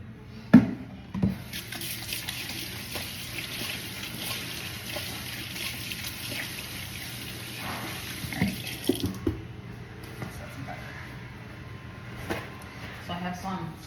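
Tap water runs steadily into a sink while hands are washed, a broad hiss lasting most of the time before shutting off, with a few clunks and a voice now and then.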